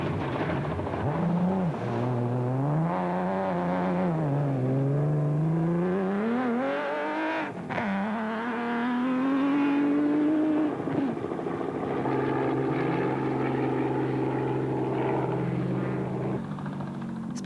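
A Nissan Hardbody rally truck races through a 2005 Toyota 1000 desert rally stage, its engine loud and continuous, pitch rising and falling through gear changes and revs, with a steadier, lower drone toward the end.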